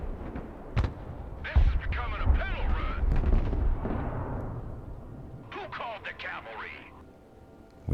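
Artillery fire in the video game Broken Arrow, several heavy booming thuds and rumbles spaced across the scene, with a commentator talking over the battle.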